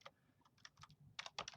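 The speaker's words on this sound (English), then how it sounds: "I'm really struggling with typing today" Quiet bursts of typing on a computer keyboard, a few scattered clicks followed by a quicker cluster of keystrokes, close and soft with no talking.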